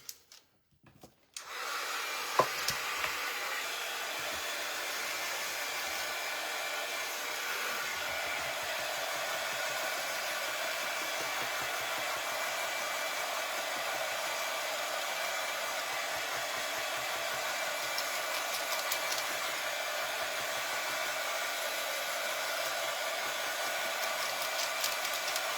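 After a couple of quiet knocks, a hair dryer switches on and blows steadily over painted wooden candy corn, a long, unbroken airy roar at moderate loudness with no voices.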